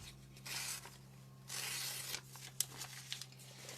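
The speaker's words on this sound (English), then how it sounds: "Tear this little bit off." Paper being torn by hand to trim a small piece from a stamping mask, two longer ripping bursts followed by a few short crisp tears and crinkles, close and fairly quiet with no talk.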